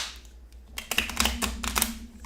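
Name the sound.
shuffling bowed board game cards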